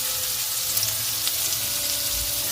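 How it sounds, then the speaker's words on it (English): Maple and rosemary glazed pork cutlets fry in a hot pan, a steady, even sizzling hiss with faint crackles, continuous and moderately close. "the pan is hot, you will add half the pork to the pan. And you will cook until brown"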